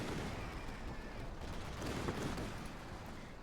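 Rapid anti-aircraft cannon fire from a British tank in Company of Heroes 2 crackles continuously in dense bursts, mixed with distant battle rumble at moderate level.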